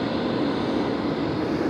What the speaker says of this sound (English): there's jet engines running at full speed behind me